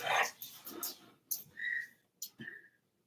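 An excited dog barks and yelps in short, uneven bursts as a visitor arrives on a bike, with whimpering notes between the fairly close, moderately loud barks.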